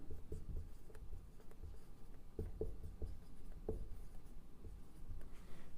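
A pen scratches across paper while working through a class 9 circle-area maths problem: close, soft strokes and taps in short irregular bursts, with no talking.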